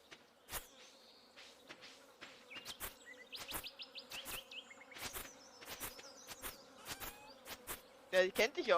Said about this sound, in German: Sind irgendwo Bienen?